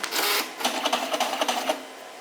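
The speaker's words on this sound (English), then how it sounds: "it prints, and this is the premium printer, so it's super, super fast, and it cuts it for you" A premium craft printer printing and then cutting a DIY bridal shower welcome sign runs with a whirring mechanical burst followed by a rapid series of clicking, chattering strokes, close and fairly loud, without talk.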